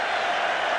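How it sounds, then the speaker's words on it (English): Boston basketball crowd at a 1985 NBA Finals game against the Lakers letting out a derisive cheer, a broad sustained roar with no breaks. "Sort of a derisive cheer from the Boston fans"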